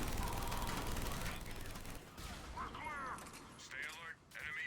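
An automated turret in the Mass Effect 3 multiplayer game fires a dense, continuous volley of rapid gunfire at close range, breaking off briefly partway through, with a player talking over it.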